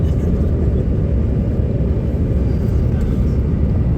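Steady, loud engine roar and low rumble inside the cabin of a passenger airplane on approach to land in New York City, a constant, unbroken drone with no distinct events.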